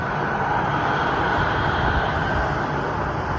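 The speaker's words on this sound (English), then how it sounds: "Look at the train." A train passing nearby with a steady, continuous rumble and rushing roar that holds constant throughout, with no talking.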